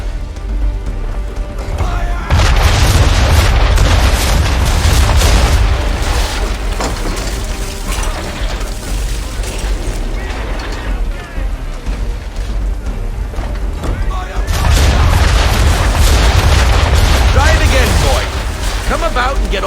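Naval cannons firing in the Assassin's Creed III video game, heavy booming volleys in two bursts with rumbling debris and splashes between them, while a voice calls out orders.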